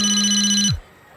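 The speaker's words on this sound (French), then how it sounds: "J'ai cru entendre sonner le téléphone de Roniane" A mobile phone rings in an animated cartoon scene, a bright electronic tone held steadily for most of a second before cutting off, followed by a short silence.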